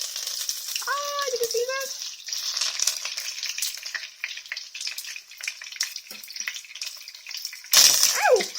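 Hot oil crackles and spits steadily as betel leaf rolls fry in a pan, close and busy, with a voice speaking briefly over it and a louder burst of spattering near the end.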